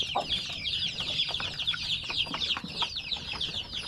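Young chicks clucking and peeping busily in their pen at feeding time, a dense, continuous chorus of overlapping high calls near and loud, with no talk.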